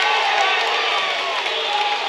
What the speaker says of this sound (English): The Paoli crowd likes it